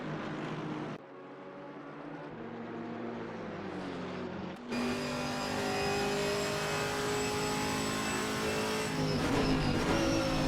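Onboard sound from a GT4 race car lapping Snetterton, a loud sustained engine note that rises and falls through the gears, with a sharp upshift partway through and continuous high revving after it, with no voices.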